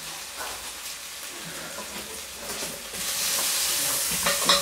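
Onions fry on a very low flame while being stirred, a steady soft sizzle with scraping stir strokes that grows louder and hissier toward the end; no talking.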